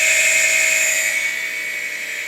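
A SCSI hard drive spins with a loud, steady high-pitched whine, like a drill, holding sustained tones throughout and easing slightly in level partway through.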